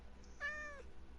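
A single cat meow, drawn-out and tonal, rising over a quiet hum of game background, brief and moderately close.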